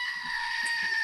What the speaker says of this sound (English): I don't have a cat, but I do have a screaming goat.